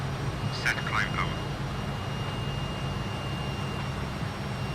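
Fokker F28 jet engines at climb power in the flight simulator MSFS 2020, a steady low broadband roar with a faint high whine, continuous and fairly quiet, with brief chirpy cockpit sounds early on.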